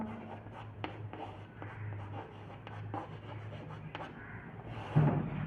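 Chalk scratching across a board during a chemistry lesson on electrochemistry, a series of faint rubbing strokes and taps with short pauses between them, close and quiet, with a soft bump near the end.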